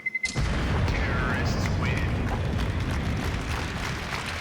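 A loud explosion in a professional Counter-Strike match bursts suddenly after a few short taps, then rolls on as a heavy, rumbling boom with scattered debris-like crackle that fades slowly over several seconds.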